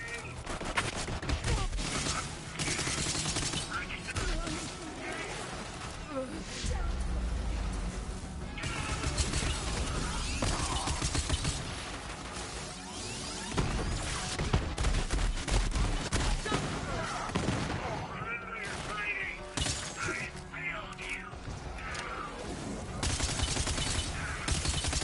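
Continuous gunfire from the video game Borderlands 3, dense rapid shots and explosive crashes layered over game sound, loud and sustained throughout with occasional talk.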